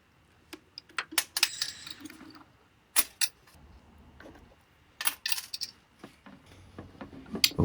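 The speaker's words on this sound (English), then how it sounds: "So you can see me just removing the hinges off the back." Metal hinges being worked loose and removed from the back of an old wooden Cheney England projector box, giving scattered sharp metallic clicks, taps and scrapes in irregular bursts, close and fairly clear with quiet gaps between.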